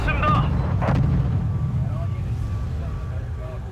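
Heavy artillery fire rumbles through a Wargame Red Dragon battle in a 2nd Korean War campaign, a continuous loud low boom and roar with a sharp burst near the start, while a voice talks over it.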